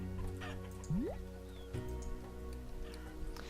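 A single sharp chicken squawk from the video game Forge Quest, quick and rising, followed by faint clucks over a quiet steady game backdrop.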